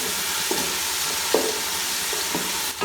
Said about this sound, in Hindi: साथ ही मैं इसमें गार्लिक लीव और ग्रीन चिली ऐड कर दूँगी। इसे मिक्स कर लूँगी अच्छी तरह से।